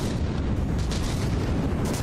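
Heavy explosion from a Cram shell in the naval combat game From the Depths, a dense rumbling boom filling the whole two seconds with continuous low roar and no voices.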